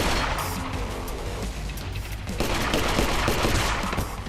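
Rapid, loud gunfire from a low-budget mercenary action movie shootout after a patrol stop, with dense overlapping shots and bursts continuing throughout.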